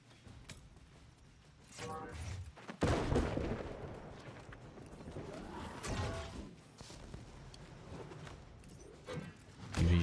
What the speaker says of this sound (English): You're shooting me already there